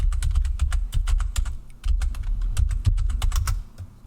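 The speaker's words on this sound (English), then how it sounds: "I'm going to type that into the chat for you so you can see it" Rapid, uneven keystrokes clatter on a computer keyboard as someone types a message into a chat, close and fairly quiet, with short pauses between bursts and no talking.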